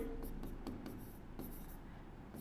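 A pen scratches quick strokes as a maths solution is written out by hand, the soft marks coming in short bursts, close and quiet, with no talking.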